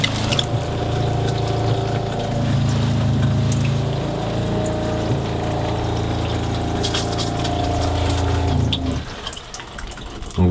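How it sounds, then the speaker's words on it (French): A shower head in a caravan sprays a strong jet of water over a steady electric pump hum, loud and continuous. The flow cuts off near the end. "c'est extrêmement satisfaisant d'avoir un jet d'eau comme ça, qui est parfait pour bien se laver"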